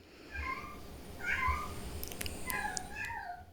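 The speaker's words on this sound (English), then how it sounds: "Lottie's the cutest cat ever." Lottie the cat meows several times, soft nearby mews spread across a few seconds over a low room rumble, with a few small clicks near the end.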